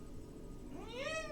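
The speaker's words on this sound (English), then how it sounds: "There are cats out there!" Cat meowing outdoors, a single drawn-out rising meow near the end of the clip over a steady low background hum, fairly clear and close.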